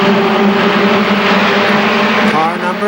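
ARCA SuperCars race cars at KilKare Speedway, a loud steady engine roar of the pack passing close and holding throughout, with an announcer's voice over it.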